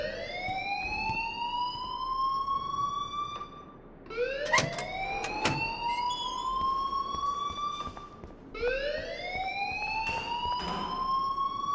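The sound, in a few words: school alarm ringing in the video game Life is Strange Remaster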